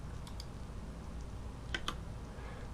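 Quiet computer mouse clicks at a desk while working in Blender, a few sharp ticks in two small pairs, faint and isolated with no talk.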